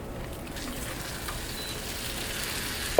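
Apple slices glazed in cinnamon sugar sizzle on a hot grill griddle, a steady, even crackling hiss at a moderate level with no speech over it.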